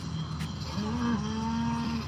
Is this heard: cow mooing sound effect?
yes